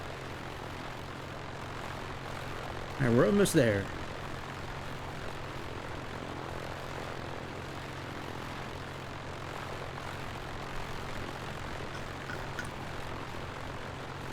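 A propeller airplane engine drones steadily throughout in Microsoft Flight Simulator, with someone talking briefly over it near the start.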